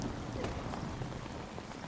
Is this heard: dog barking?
no